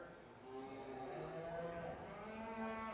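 Cattle moo at a county fair beef show during judging of cow-calf pairs, one long sustained low call that is moderately distant, with no speech over it.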